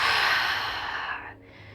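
A deep, steady exhale during yoga breathing, a broad airy rush of breath that holds for over a second and then tapers off. Close and clear, with no talking over it.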